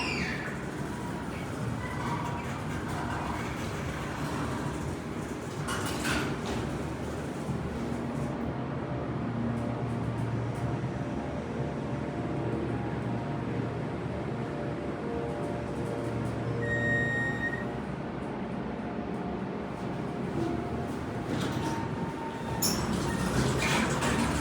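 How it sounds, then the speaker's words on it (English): A huge Minnesota hydraulic showroom elevator running at IKEA in Centennial, Colorado, giving a steady low hum and mechanical drone throughout, with faint squeaks and a couple of brief clunks. "We've got a ginormous Minnesota elevator."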